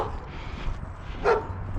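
A big, older white dog barks on a neighborhood walk in Lewiston, Maine, giving a couple of short, near yips and woofs over steady outdoor background noise.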